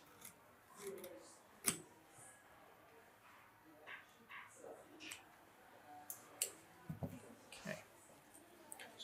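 Scissors snip through fabric at a marked dart in a series of soft, irregular close clicks and crunches, quiet overall with faint room noise between cuts.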